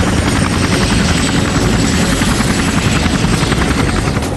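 A helicopter flies overhead on an airborne reconnaissance flight over Angkor Wat in Cambodia, its rotor thumping steadily, loud and close for the whole stretch.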